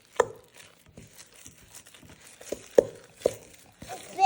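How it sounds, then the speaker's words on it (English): Kids stir a thick cinnamon ornament dough, with scattered soft thuds and scraping knocks of a spoon against the bowl at an uneven rhythm, close and fairly quiet. "Stirring this dough. It's a thick dough, so it takes a little while to come together."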